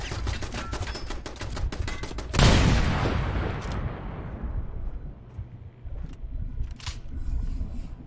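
An automated turret in Fallout 4's Glowing Sea fires rapid, rattling bursts, then a loud blast-like impact is followed by a fading rumble and scattered sharp shots, moderately close.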